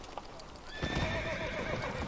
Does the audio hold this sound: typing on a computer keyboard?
no